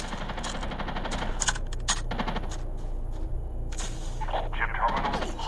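Gunfire in Call of Duty Mobile battle royale, a string of sharp bursts and single shots over a steady bed of game noise, moderately loud, with no clear voice over it.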